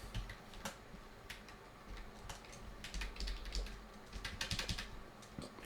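Faint, irregular clacking of typing on a new computer keyboard during coding, quick bursts of keystrokes with short pauses, fairly quiet and close.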